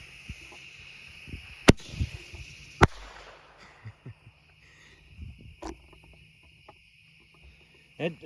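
Mini mortar firework shells launching from their tubes outdoors, a few sharp, brief pops spread across the clip over a steady hiss of insects, with scattered small knocks and handling sounds between.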